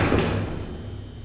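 Doors of a vintage hydraulic freight elevator closing, a sharp sliding thud at the start followed by a fading low rumble.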